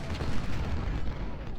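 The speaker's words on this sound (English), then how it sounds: "There's cannons shooting at us" Cannon fire in the Civil War video game Ultimate General: Civil War, a dense rumbling barrage of overlapping booms, loud and continuous with no clear pauses.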